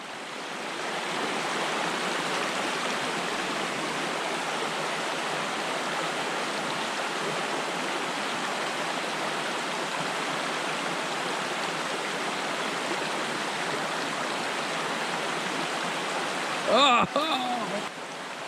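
Steady creek water rushing and babbling along a wild trout stream, a constant close wash of flowing water with a brief knock near the end.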